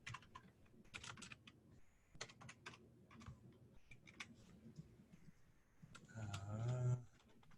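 Typing on a computer keyboard while filling in a loan workbook: quick, uneven bursts of close key clicks with short pauses, followed by a brief louder hum near the end.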